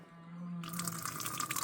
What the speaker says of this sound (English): There we go, we're starting to get some water.